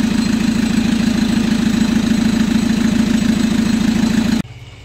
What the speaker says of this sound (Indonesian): kita biarkan dulu mesinnya nyala